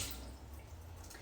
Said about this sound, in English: Rinse your hands because they're going to be covered in stuff.